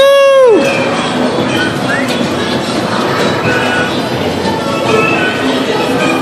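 Steady rumbling clatter of a train ride at Christmas, continuous wheel noise and rattling carriages with a brief whistle-like tone at the start, voices faintly mixed in.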